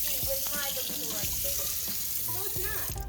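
A sink tap runs steadily with a broad hiss of flowing water, while voices chatter and short clinks and knocks sound nearby.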